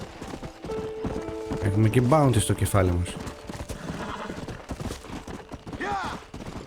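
Horses whinnying loudly in the Western video game Red Dead Redemption, a clear neigh with falling harmonics mid-clip and another faint whinny near the end, over steady hoofbeats and game noise while someone talks throughout.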